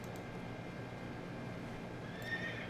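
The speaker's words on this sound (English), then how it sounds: "Call up the horse." A horse in a video game lets out a single clear whinny, loud and close, over a steady hum of in-game ambience.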